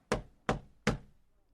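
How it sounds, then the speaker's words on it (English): Three firm knocks land on a wooden door in an even rhythm, each with a short hollow thud and decay, close up and clear. "Someone knocked on Richard's door."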